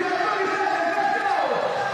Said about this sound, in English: Malaysian crowd on their feet.